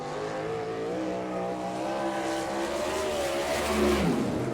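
A non-wing 305 sprint car roars around a dirt oval, its engine droning steadily with shifting harmonic pitch as it laps, loud and continuous with slight swells near the end.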